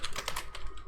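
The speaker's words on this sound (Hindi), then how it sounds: "आपने बैक स्पेस दबा देनी है" Computer keys pressed on a keyboard while formatting in MS Word: a quick burst of several crisp, close clicks in under a second, with no talk.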